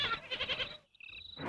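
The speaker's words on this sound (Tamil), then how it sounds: "ஆடு கத்துது" A goat bleats twice at night in a rural house, a strained wavering cry followed by a higher, thinner call, close by and otherwise alone.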